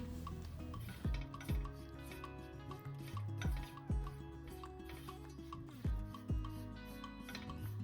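Metal utensil scraping and clinking against a pot in a steady stirring rhythm as flour is roasted, with occasional sharper knocks, no voices.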